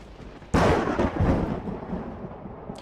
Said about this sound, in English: just a random heavy rainstorm that came through